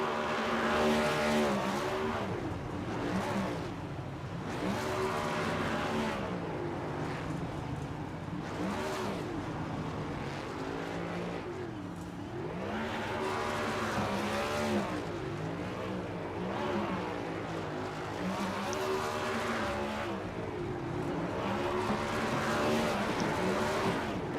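A NASCAR Next Gen stock car in iRacing, the racing sim, does a long burnout at the start-finish line of Las Vegas Motor Speedway: a loud, sustained roaring engine with rising and falling revs and tire squeal, continuous throughout.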